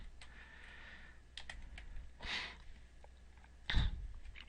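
Scattered keystrokes on a computer keyboard while entering a date into a spreadsheet cell, a few soft clicks spread out with pauses and one louder thump near the end, fairly quiet and with no talking.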